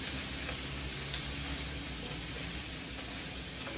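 A salmon fillet sizzles as it roasts in a pan, a continuous dense crackling hiss at an even, fairly loud level with no talk over it.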